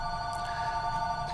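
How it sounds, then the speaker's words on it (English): A telephone rings with a steady electronic bell tone, sustained and fairly loud over a low background hum, with no voices. "Hey, the phone's ringing."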